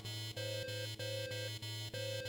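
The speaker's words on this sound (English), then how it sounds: "An alarm echoes through the facility, announcing the arrival of the flowers." Facility alarm from the video game NieR Reincarnation: a steady electronic tone pulses on and off about five times, each burst a two-note buzz with a low drone beneath, loud and alone.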